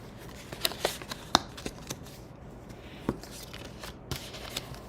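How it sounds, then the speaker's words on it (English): Cardstock being folded along score lines for a sweet jar slider box, heard as a handful of sharp, close creasing snaps and crackles spread over a few seconds, with quiet rustling in between. "I'm going to fold along all the score lines"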